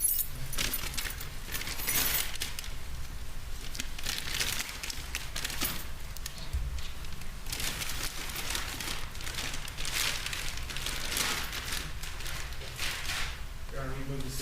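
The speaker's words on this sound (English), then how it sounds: "there's a set of keys for a Kia vehicle" A set of Kia car keys jangles repeatedly in a courtroom, bursts of metallic clinking and rattling recurring close-up for the whole stretch, with voices in the background.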